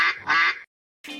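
Two close, loud duck quacks as a sound effect in a video game store advertisement, followed after a short pause by the start of a third.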